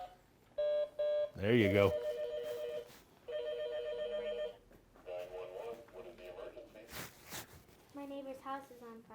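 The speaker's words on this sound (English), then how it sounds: "you have to dial a number now" A telephone handset gives a run of electronic dialing beeps in short bursts, then rings, during a children's emergency-call practice with a police officer. Voices talk in between.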